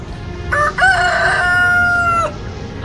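One loud, close cock-a-doodle-doo from a rooster, a rising call held into a long drawn-out wavering note that ends abruptly, alone against quiet background.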